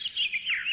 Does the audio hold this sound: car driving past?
no